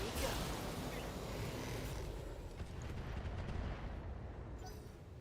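Heavy mech weapons fire in the BattleTech video game, a dense rumbling barrage of blasts and impacts that roars steadily throughout, with a louder burst at the start and a faint voice underneath.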